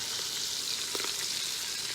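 Oxtail pieces browning in a pot, giving a steady, close frying sizzle throughout with a few faint scrapes or stirs in the middle, and no talking.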